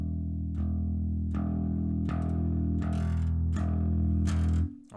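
Open E note on a bass guitar, plucked repeatedly and swelling from soft to loud in a steady crescendo, each note sustaining with a bright attack before cutting off near the end.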